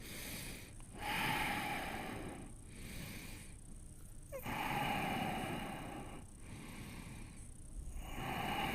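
Deep, slow breathing through the nose during a strong vinyasa yoga flow, several long inhales and exhales rising and falling in a steady rhythm, close and fairly loud with soft snorting edges.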